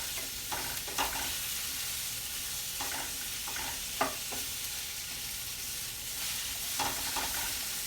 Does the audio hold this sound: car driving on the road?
no